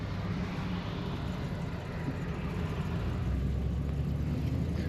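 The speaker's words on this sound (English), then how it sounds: "Smooth running Cadillac, as most of them are." A 1958 Cadillac Coupe DeVille engine runs smoothly while the car is driven, giving a steady, close, low rumble and whir with no break and no voices.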